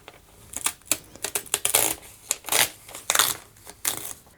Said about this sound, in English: We just need to remove the paper, and the paper's going to come off very easily.